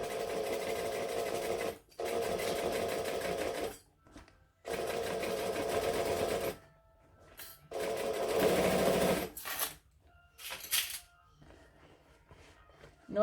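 A sewing machine labours through thick vinyl in several whirring runs separated by pauses, one stretch sounding strained and louder, as though the needle is nearly breaking, followed by short stuttering stitches.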